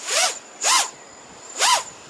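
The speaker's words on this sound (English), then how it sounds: "Well, they're pretty quiet compared to other props" A quadcopter on 2206 motors spinning Azure Power 5045X3 propellers revs up in three short, sharp whining bursts with rising and falling pitch, close and loud, with a faint steady tone between them.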